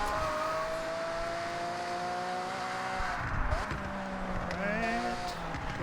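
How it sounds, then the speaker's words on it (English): Lamborghini in the Forza Horizon video game, its engine holding a high steady tone at speed, then dropping and climbing through shifts with a brief squeal of tires near the end, loud and constant. "I'm definitely flying in this Lamborghini."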